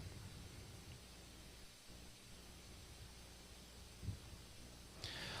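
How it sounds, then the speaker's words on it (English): A white noise machine runs in a courtroom, giving a faint, steady hiss throughout, with a soft brief bump near the end. "the white noise machine is on."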